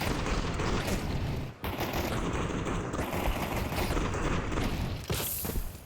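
Counter-Strike 2 gunfire rattles out in a sudden dense burst of rapid shots, loud and close, with a short pause partway through before the firing resumes.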